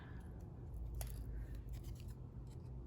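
Scissors snip around a paper ghost during a Halloween card craft, producing faint, quick, close cuts over a low steady background hum.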